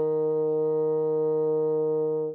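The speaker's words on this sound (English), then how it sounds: "And that is your E flat, and that sounds like this." A bassoon holds a single steady E flat played with forked fingering and the left pinky on the resonance key, a clear reedy sustained note lasting about two seconds before cutting off, alone and close.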